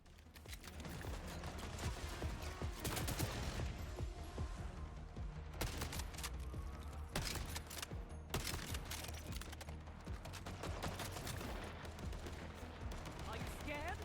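Dense rapid gunfire in a World War II–style campaign video game crackles in long overlapping bursts with sharp single cracks mixed in. It plays at a fairly low, steady level throughout, with no clear voices.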